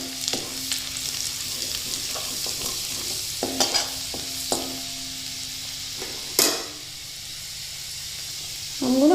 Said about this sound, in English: Let's just saute this for about a minute till the raw flavor goes off.